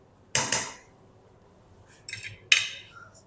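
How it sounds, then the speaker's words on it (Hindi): A utensil clinks against a bowl while two eggs are beaten for coating shami kababs: a quick pair of bright metallic knocks, a pause, then a rattling scrape and another sharp clink, close and alone. "इनको ना अच्छी तरह फेंट लेंगे अंडों को।"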